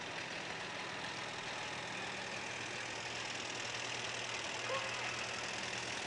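Tractor engine idling at an outdoor parade, a steady low rumble with broad wind-like noise over it, fairly faint and even throughout, no one talking.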